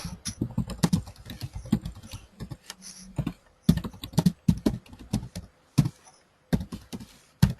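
Typing on a computer keyboard, bursts of quick close key clicks separated by short pauses, with a few louder isolated taps near the end.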